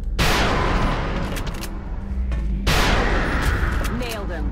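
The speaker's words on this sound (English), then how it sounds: "Rapid fire." Rapid gunfire in XCOM Enemy Within: two dense, loud bursts of shots, the second starting about halfway through, each crackling broadband and trailing off into rumble, with talk over the top.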